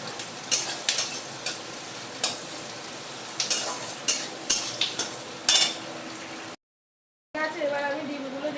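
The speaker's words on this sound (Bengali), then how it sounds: "আমি পেঁয়াজ লঙ্কাগুলো আগে ভেজে নিই" Onions and green chillies frying in a pan for mixed chowmein, a steady sizzle with repeated scraping and stirring clacks of a spatula, close and fairly loud, ending in a brief silence before the frying resumes.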